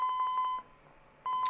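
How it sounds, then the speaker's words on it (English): Cell phone ringing with a repeating electronic beeping ringtone, two bursts of rapid pulsed tones separated by a short gap of quiet, clear and close. "Asawa's cell phone rang."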